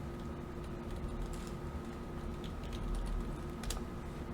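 Quick computer-keyboard keystrokes as numbers are entered into a trading journal spreadsheet, soft irregular clicks in bursts over a faint steady background hum, no voices.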